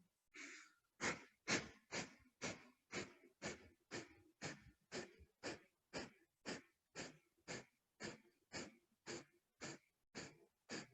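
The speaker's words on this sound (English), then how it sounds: "It's a powerful cleansing breath." Kundalini breath of fire: about twenty rapid, forceful cleansing exhalations through the nose in an even rhythm, close and fairly quiet, with no talking.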